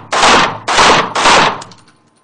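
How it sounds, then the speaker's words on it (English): Three loud, close pistol shots in quick succession are fired on a shooting range while advancing toward the target, each a sharp blast with a brief ringing tail, the last fading into the open air. "I'm going to keep those shots tight on the A zone while moving towards the target."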